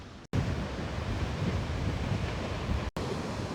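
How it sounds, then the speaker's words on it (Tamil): Strong sea waves pounding a seawall on a stormy shore, a continuous heavy roar of surf with wind buffeting the microphone, loud and close, with no voices. "கட்டுல வந்து எவ்வளவு வேகமா இந்த அலையெல்லாம் அடிக்குதுன்னு சொல்லி"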